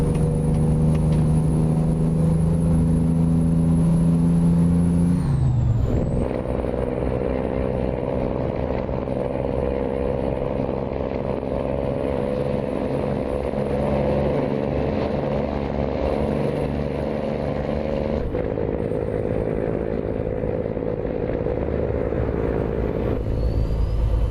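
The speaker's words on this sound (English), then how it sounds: "it's the best sounding engine in the game, the Cummins N14" Cummins N14 truck engine in American Truck Simulator, a heavy steady diesel drone heard from inside, with a brief pitch drop and shift near five seconds before settling into an even low rumble; no talking.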